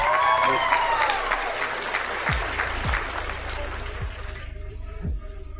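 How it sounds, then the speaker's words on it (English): A small crowd claps in applause, a dense steady patter of hands that fades out over a few seconds, with some low thumps beneath. "Give her a round of applause, please, Annie."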